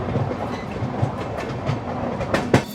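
A double-decker express train rolls into Jaipur railway station, its wheels beating a rhythmic clickety-clack over rail joints under a steady rumble, with a louder clunk near the end.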